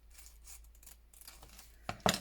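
Scissors snipping through a decorated paper envelope, soft quiet cuts with a couple of sharper, louder snips near the end, no talking.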